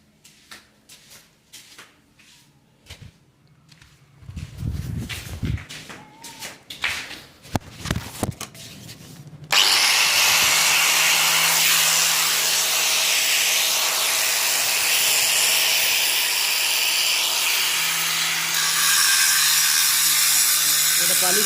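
A marble floor polishing machine at an Indian construction site starts up with a sudden loud, steady grinding hiss that runs without a break, preceded by scattered knocks, footsteps and handling noise.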